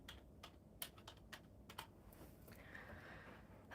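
Typing an email address on a computer keyboard, uneven bursts of sharp key clicks close by, pausing and then picking up again, fairly quiet with no talking.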